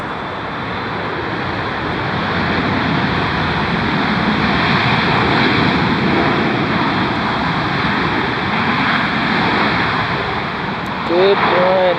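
A jet airliner landing at Dulles airport, its loud, steady engine roar holding through the whole stretch from a fairly close spot, with a brief bit of other noise near the end.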